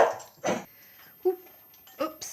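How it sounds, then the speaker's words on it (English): A dog gives several short, sharp barks and yips spaced apart, somewhat distant and moderate in level, with someone talking in between. "got the dog barking"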